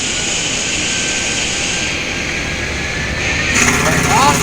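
Jet engines of a Boeing 737-800 in the X-Plane 10 flight simulator hold a steady broadband roar, swelling louder toward the end as throttle is added, with a faint rising whine on top.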